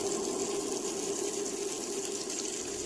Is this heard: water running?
yes